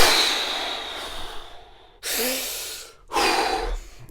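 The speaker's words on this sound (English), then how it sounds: "start with some deep breaths" Two deep breaths drawn close to the microphone, each a soft, airy rush lasting about a second with a pause between, following a quiet stretch of room hiss.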